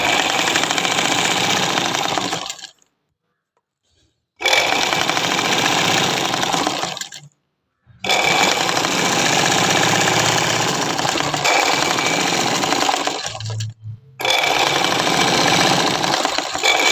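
A sewing machine stitches two pieces of a shawl together into palazzo pants, running in long steady bursts of rapid mechanical rattling, broken by three short silent pauses, loud and close with no talking.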